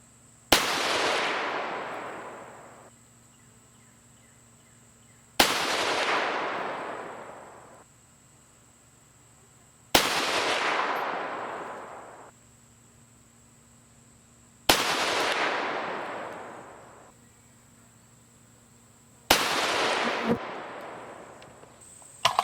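Five loud rifle shots from 6mm cartridges loaded with IMR 4451 powder, evenly spaced about five seconds apart, each a sharp crack trailing off in a long echoing decay, with no talking between them.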